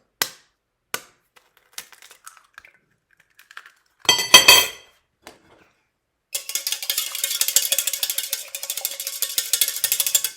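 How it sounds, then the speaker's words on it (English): An egg is beaten with a utensil in a jug while making hot cross bun dough. A few sparse clinks and knocks come first, then a sustained run of rapid, close, bright clattering, with no talking. "in our jug, I'm just going to beat an egg as well"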